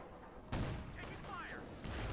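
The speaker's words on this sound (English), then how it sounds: "Shot fired." Scattered gunfire crackles in a Company of Heroes 2 battle, faint and distant, with a sharp burst of shots after a brief quiet start, mixed with other battle noise.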